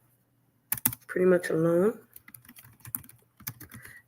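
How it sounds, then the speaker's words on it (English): Computer keyboard typing comes in quick irregular clicks, fairly close, mixed in with a person talking over it. "you're gonna hear me like typing and doing all this stuff"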